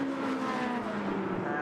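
Lotus Elise Trophy race cars at Brands Hatch produce a loud, steady engine drone with a gradual pitch shift as they pass.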